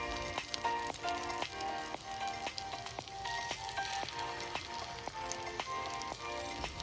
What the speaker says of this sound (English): After that, I put in my pork chop